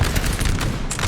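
A brief burst of artillery fire in Napoleon Total War, in a Napoleonic-era battle between French and Russian forces at Golymin in 1806. Several heavy, booming blasts come close together in a loud, rumbling cluster.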